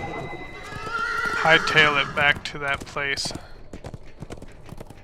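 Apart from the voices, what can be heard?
horse neighing and hooves clip-clopping in video game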